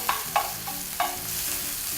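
Chunks of spinach drop into a hot pan and sizzle as they wilt, a steady frying hiss broken by a few sharp crackling bursts as pieces land, close and alone.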